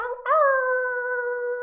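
A group of people join in a long, sustained wolf-like howl, voices imitating wolves, rising sharply at the start and then holding a steady drawn-out tone.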